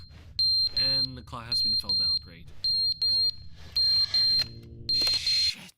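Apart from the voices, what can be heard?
fire alarm ringing in the video game Crashout Crew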